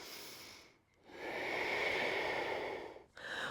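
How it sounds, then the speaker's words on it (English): A deep breath during a power vinyasa yoga pose: a slow, airy inhale or exhale that swells and holds, then a short pause and the start of the next breath, close and clear. "And you're breathing deeply for 2 more breaths."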